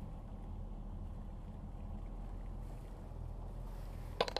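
A sailboat's motor runs leaving La Rochelle harbour, a steady low engine drone with a faint hum and a brief knock near the end, no voices.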